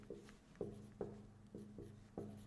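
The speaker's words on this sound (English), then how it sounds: "I'm going to write it here" A marker or pen writes on a surface in quick, repeated strokes, each one a short scraping burst at a fairly even rhythm, close and quiet.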